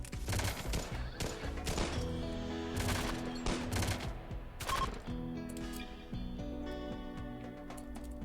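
Sustained rapid gunfire in a RimWorld colony firefight, dense overlapping bursts and volleys like machine guns and rifles firing together, loud and continuous throughout with no talk.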